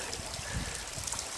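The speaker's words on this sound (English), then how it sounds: "There is this little waterfall, well, I call it a waterfall, it's a trickle." A small trickle of water spills over rocks in a Welsh rainforest, giving a steady, faint, diffuse wash with soft gurgles, low and continuous throughout.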